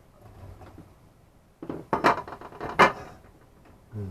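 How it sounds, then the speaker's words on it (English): Mushrooms tumble into a hot pan for a chicken and gai lan stir fry, giving a cluster of loud clattering knocks and bumps against the metal, then a quieter stretch before a final thud, with no talk. "I'm going to put the mushrooms in first."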